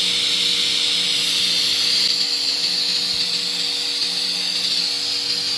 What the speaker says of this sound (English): So why is the aluminum so loud?